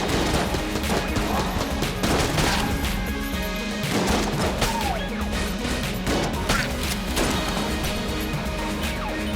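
Rapid, loud blasts and crashes from combat in the video game Enter the Gungeon, a dense string of sharp explosive hits and gunfire layered over game music.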